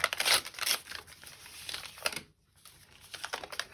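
Thin packaging paper being folded and torn at close range, crisp crinkling and ripping bursts in short irregular bouts with a brief pause, no talking.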